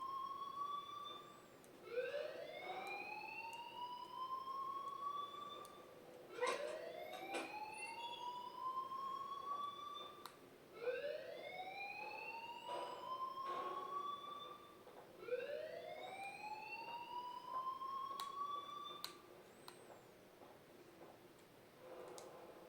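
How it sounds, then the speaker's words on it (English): A fire alarm whoops inside the video game Life Is Strange, each rising electronic sweep climbing in pitch and repeating about every four to five seconds in a steady, moderately loud cycle, with no voices over it. "please turn off that alarm"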